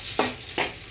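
Garlic sautés for pansit in a hot pan, a steady close sizzle broken by two brief scraping stirs, with no voices.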